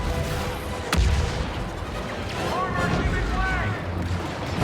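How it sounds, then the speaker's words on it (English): Auto cannons being destroyed in Star Wars Battlefront II (2017), one sharp loud blast near the start followed by a rumbling battlefield bed with further muffled booms and laser-like chirps. "that was all the auto cannons that we destroyed"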